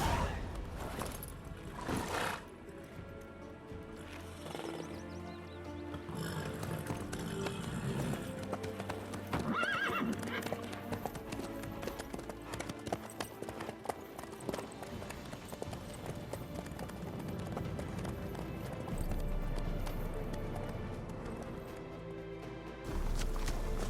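A horse gallops in The Witcher 3, with steady rhythmic hoofbeats running under game music and ambience through most of the stretch and no speech over it.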